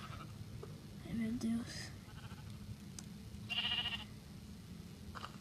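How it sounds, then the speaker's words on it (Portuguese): Sheep bleating in a video game, a couple of short nasal bleats rising above a steady low game hum, with someone talking and exclaiming over them. "Ó, a ovelha."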